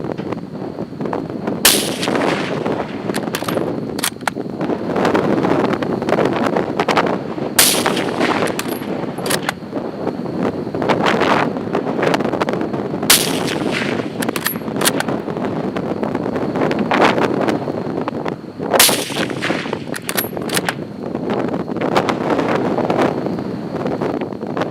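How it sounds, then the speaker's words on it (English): Five rifle shots from a P-14 fired at a target 400 yards downrange, each a sharp loud crack spaced several seconds apart, carried over steady gusting wind buffeting the microphone outdoors. "Try from the 400-yard point, and I fired 5 shots this time."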